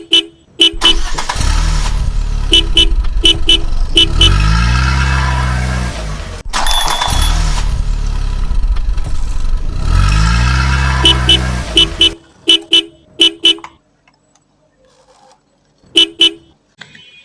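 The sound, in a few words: motorcycle speeding past, honking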